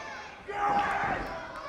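A wrestling crowd swells into a roar behind a wrestler, a broad wash of cheering that builds after a brief lull and stays loud under a commentator's voice.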